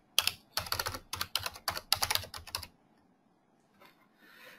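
Quick bursts of keystrokes on a computer keyboard, close and clear, in a fast irregular rhythm for a few seconds before trailing into quiet room tone with faint rustling.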